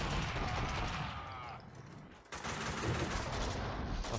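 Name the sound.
gunfire from the video game Max Payne 2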